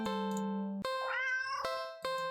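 A cat meows repeatedly, loud and close, in long drawn-out tonal cries with rising, wavering pitch, three or four calls back to back with no talking.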